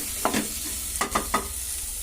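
A spoon stirring vegetable soup with salt in a pot: a few soft scrapes and clinks at an uneven pace over a steady low background hiss, close by, with no talking.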